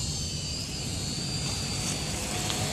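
A small drone hovers and flies nearby, its propellers giving a steady high-pitched whine with a constant buzzing hum and no breaks.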